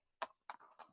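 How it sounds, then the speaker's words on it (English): Three crisp hollow clops of horses' hooves on a hard street, evenly spaced and close, used as a story sound effect. "they heard the clip-clop of horses' hooves"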